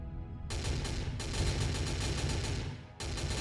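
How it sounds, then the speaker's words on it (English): Rapid cannon fire from a fighter jet during a Stargate ship battle video game, a dense, loud burst of machine-gun-like shots sustained for several seconds, broken by a brief pause before another volley starts. "I believe it's a cannon, so it's like a machine gun."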